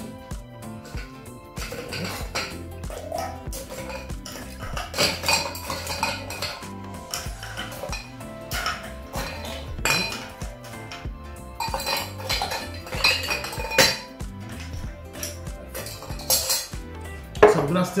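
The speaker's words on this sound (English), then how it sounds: "It's a still drink, so we're gonna fill our mixing glass with ice cubes." Ice cubes clattering and clinking into a cocktail mixing glass, then jostling as they are stirred, a busy run of close glassy knocks and rattles.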